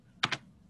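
Two quick keystrokes on a computer keyboard, sharp close clicks in rapid succession within a quiet room.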